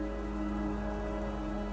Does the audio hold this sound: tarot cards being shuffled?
no